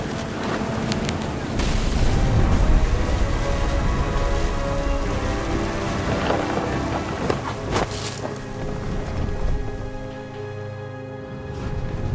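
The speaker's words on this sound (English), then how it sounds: "thunder sounded much too close and full of angry power" Thunderstorm with heavy rain in the video game What Remains of Edith Finch, a dense, loud rain hiss that runs the whole time, with deep rumbling thunder and sharper cracks breaking through.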